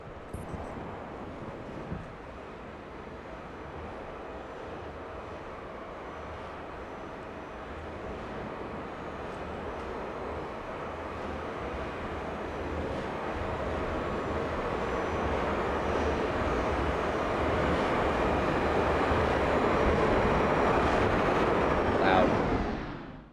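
An aircraft in a video game comes in to land, a continuous broad engine roar with wind rush that slowly swells louder over some twenty seconds before cutting off abruptly.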